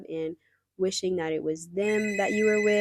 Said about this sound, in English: Sorry about the phone again.